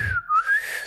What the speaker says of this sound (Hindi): सीटी बजा बजा के उनको चिढ़ाने की कोशिश कर रहे हैं